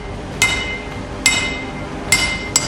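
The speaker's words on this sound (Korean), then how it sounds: "여러 겹의 쇠가 하나의 뭉치로 붙게 되면 망치질을 해서 더욱더 단단하게 만드는데요" Hammer blows on layers of steel fused into one block, forged into a kitchen knife. Four sharp metallic strikes ring out at uneven intervals, the last two close together, over a low steady workshop rumble.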